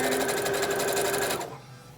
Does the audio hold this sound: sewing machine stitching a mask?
yes